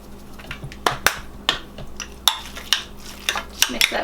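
Garlic powder and cumin being mixed into chicken for fajitas, a series of sharp clinks and scrapes of a utensil against a bowl or pan at an uneven pace, close up and clear, with no talking.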